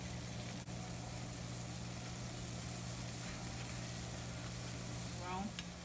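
Ghanaian puff puff dough balls frying in hot oil give a steady, broad sizzle that runs unbroken from start to finish, close and moderately loud over a low background hum.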